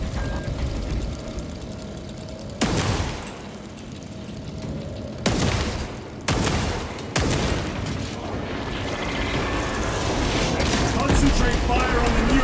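Gunfire in Warhammer 40k: Space Marine 2, with several sharp, loud bursts spaced a second or two apart over a rumbling battle backdrop that swells toward the end.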